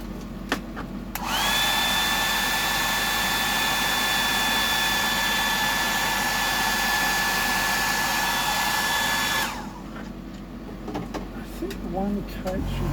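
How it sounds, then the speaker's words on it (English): A hair dryer blows on wet paint for about eight seconds, a steady close whooshing hum with a high whine that cuts in abruptly and stops just as suddenly. "I'll just give that a dry"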